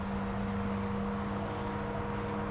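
An ATOMRC AUK FPV model airplane in flight, its electric motor and propeller giving a steady, continuous drone with a faint whine, unbroken and moderately distant.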